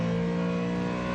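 A Ford Mustang GT3 and a class-leading McLaren race car power out of Arnage, the slowest corner at Le Mans during the 24 Hours, making a loud, steady, close engine roar with strong tonal harmonics.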